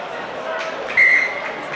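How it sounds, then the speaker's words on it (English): A referee's whistle sounds in one short, sharp blast at a rugby match between Northampton Saints and Glasgow Warriors, standing out over a steady crowd murmur and nearby chatter. "Referee's blown the whistle a few times"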